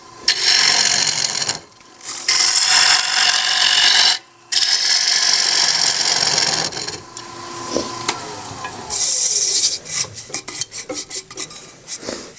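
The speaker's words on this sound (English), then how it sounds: "Kind of fun turning a bowl almost by feel." A wooden bowl turned on a lathe: loud, scraping cutting bursts from the tool against the spinning wood, broken by short pauses, then lighter intermittent ticking and scraping toward the end.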